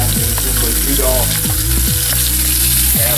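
Chicken thighs brown over medium heat in a cast iron skillet, giving a loud, constant close-up sizzle with a few scraping, shifting sounds as pieces move in the pan.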